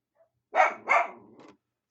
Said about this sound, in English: My dogs are absolutely getting on my nerves.